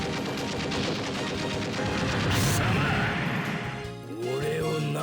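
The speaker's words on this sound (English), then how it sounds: "Fire the ball bearing." Ball bearing weapon fired in the mecha video game Super Robot Wars Impact: a dense, continuous barrage of rattling impacts and crashes, loud and sustained, with a rising whoosh midway and a brief dip before the clatter resumes.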